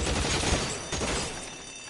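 Tommy gun fire during a bank robbery shootout in LA Noire, a dense loud burst of rapid shots that gradually tapers off, with no talk.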